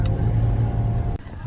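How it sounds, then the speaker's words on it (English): A car idles in a line of vehicles queued along a school driveway, a steady low engine rumble heard from inside, close and continuous with a brief dip near the end. "So you've got cars lined up in the driveway to the school."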